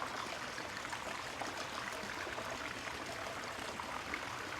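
Bordeaux red wine from the Left Bank pouring steadily from a bottle into a glass, a continuous soft trickle and splash close by with no talk.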